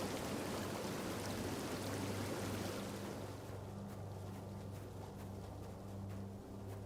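Waterfall in the video game Tainted Grail: a steady, dense rushing roar of falling water fills the scene, loud and continuous, easing slightly partway through with a low hum persisting underneath.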